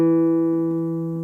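A guitar's D string fretted at the second fret rings as one sustained, clear note that fades slowly, close and solo.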